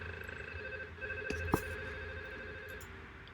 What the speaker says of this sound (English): I receive a call from 102